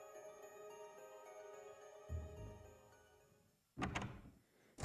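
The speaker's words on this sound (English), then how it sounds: "There's the bathroom door." A bathroom door in the Resident Evil video game opens with a low thunk and a scrape, followed by a sharper clunk as it moves. Steady game music plays underneath, and no one speaks.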